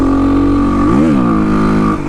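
A 2005 Kawasaki KLX300R plated dirt bike engine revs loud and close, holding a steady drone, then rising and dipping in pitch as the rider rolls the throttle through the gears.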